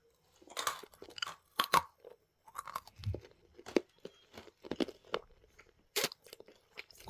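A crunchy snack bitten and chewed close up, giving a string of sharp crisp crunches of uneven rhythm with quiet gaps between, and no talking.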